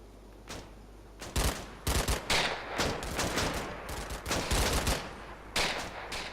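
Gunfire from soldiers in the World War II game Combat Mission: Battle for Normandy, with repeated loud volleys and bursts of rifle and machine-gun fire coming in clusters, close and sharp, with no talk.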